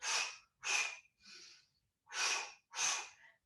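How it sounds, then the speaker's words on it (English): Forceful breath exhalations during Pilates mat exercise come in two pairs of sharp, close huffs, each pair followed by a softer breath, with short silences between. "that double huff really pushes the air out"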